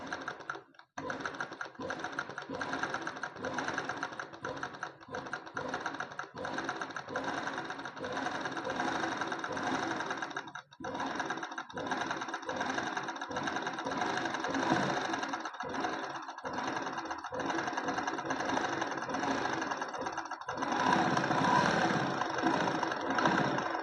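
A sewing machine runs straight machine-embroidery stitches in a long, steady, close mechanical chatter, with brief pauses and a slightly louder stretch near the end.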